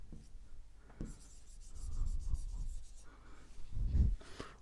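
Marker or chalk scraping across a classroom board during a maths lesson on trigonometry, a run of rubbing strokes of varying pressure with no voice over them.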